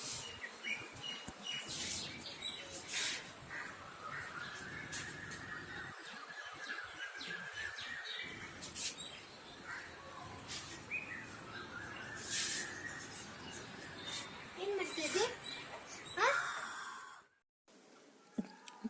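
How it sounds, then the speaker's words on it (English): Nightingale singing outdoors near a temple and homes in Durgapur, a steady stream of varied whistles and trills with other birdsong mixed in, moderately close, running for most of the stretch before a brief drop to near silence. "Especially our dear friend the nightingale"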